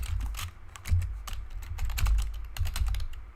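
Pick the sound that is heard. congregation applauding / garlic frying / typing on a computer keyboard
typing on a computer keyboard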